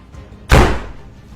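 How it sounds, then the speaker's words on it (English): A door slams shut by itself inside a quiet home, one sharp loud bang with a brief ringing decay, surrounded by near silence. "a door suddenly slammed shut all by itself when he was home alone"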